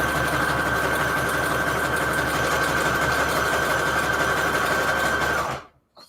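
A sewing machine stitching paper strips runs steadily with a loud continuous mechanical whir and hum, then stops abruptly near the end.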